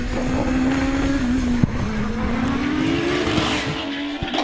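A hillclimb race car at the Harewood British Championship climbs hard toward the summit, its engine note rising steadily as it powers up the hill. A loud, continuous roar with a sharp crack partway through, and no voices.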